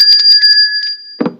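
A bright electronic bell chime rings in a quick run of repeated tones with a steady high ring, ending in a brief low thump.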